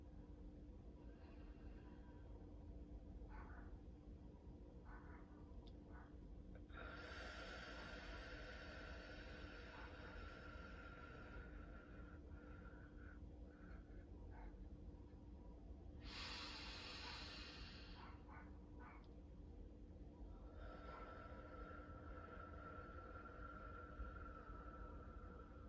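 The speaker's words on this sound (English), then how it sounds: "And then you inhale slowly and deeply." Slow, deep breathing as a breathing exercise, two long drawn-out airy breaths a few seconds apart, soft and close, with no talking.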